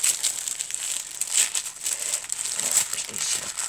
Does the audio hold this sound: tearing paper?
yes